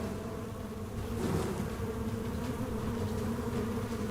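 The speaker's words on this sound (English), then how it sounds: "Oh shit, there's so many, dude. So many bees." A swarm of bees buzzes in the fantasy role-playing game Stoneshard, making a dense, steady drone that swells slightly partway through and continues unbroken, with no talking.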